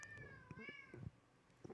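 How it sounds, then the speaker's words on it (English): A pet cat meows close by in a couple of drawn-out, rising and falling calls, with small thumps and rustles between. "The cat's like, hey."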